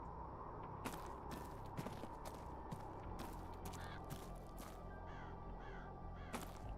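A crow cawing in the game Seance at Blake Manor, several faint calls against a steady low ambient hum, with a few soft thuds in between.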